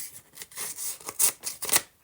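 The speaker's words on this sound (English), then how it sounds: "I think I need something smaller. The scissors maybe." Scissors snip and rip roughly through a paper envelope, a run of close, crisp cutting and tearing bursts growing louder toward the end, with no voices.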